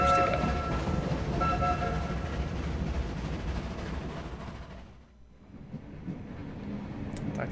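Train in a video game rolling along the rails, a dense steady rumble with faint tonal hum that thins out mid-way, leaving a quieter carriage hush with small clicks.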